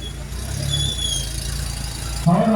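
A vehicle's low engine rumble rolls close by, with faint high squeals and a sudden louder squeaking brake near the end.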